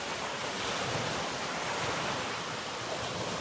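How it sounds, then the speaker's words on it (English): Powerful ocean waves make a steady, dense roar of surf, loud and continuous with no distinct breaks, mixed with a wind-like hiss. "And yet there are such powerful waves."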